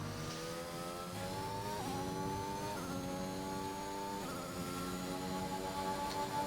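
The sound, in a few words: race cars driving past in a racing video game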